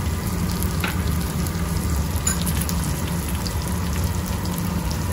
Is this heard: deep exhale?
no